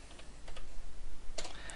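Keyboard keys tapped while renaming a layer in photo-editing software, a few soft clicks scattered across a short quiet stretch, then a tighter flurry of keystrokes near the end.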